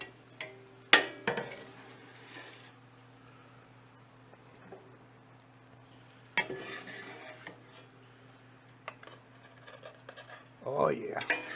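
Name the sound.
transferring food into a bowl, dishes clinking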